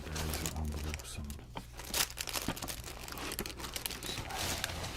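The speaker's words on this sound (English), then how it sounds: "so I have a large plastic bag, or large-ish" A large plastic bag crinkles and rustles continuously as it is handled up close, with scattered sharper crackles over a low background hum.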